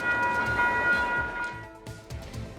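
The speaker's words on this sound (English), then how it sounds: "The westbound train is now arriving." A westbound South Shore commuter train pulls into a station along the Indiana shore of Lake Michigan: steady rumbling wheels and rhythmic rail clacks with a faint tonal squeal, close and continuous.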